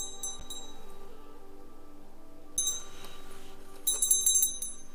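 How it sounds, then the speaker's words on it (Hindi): A small bell hung on a motorcycle jingles in short bright bursts, a couple of clinks early, then louder shaking rings later, over a steady low hum. "पहाड़ों पे घंटी का जो साउंड होता है आपके कानों में बहुत प्यारे तरीके से बजेगा"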